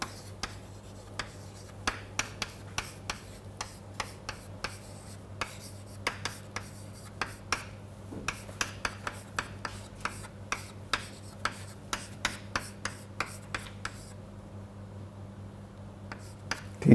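Chalk tapping and scratching on a board during a physics lecture, a long run of sharp, irregular clicks and short strokes over a steady hum, close and clear, with no voice.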